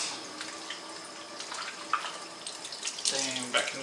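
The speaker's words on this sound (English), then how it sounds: "So wash my hands" Hands floured up to the arms are washed under a running kitchen tap, water splashing steadily with louder sloshing and dripping bursts as the hands move through the stream.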